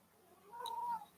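A house cat gives a single short, faint meow indoors, brief and soft against a quiet room.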